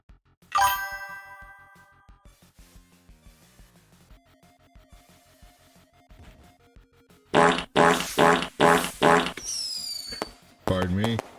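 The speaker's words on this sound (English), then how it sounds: "Let's make that the fart sound." A stream alert plays a cartoonish fart sound effect, a burst of several loud, rapid raspy pulses, after a tinkling ding-dong jingle and quieter musical tones. A short squeaky flourish follows.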